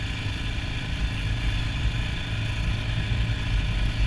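A 2020 Yamaha Raptor 700 ATV engine idles steadily nearby, a constant low rumble with no revving and no voices.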